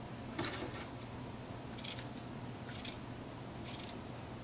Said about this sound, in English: Just actually going to cut off a chunk here of the burlap.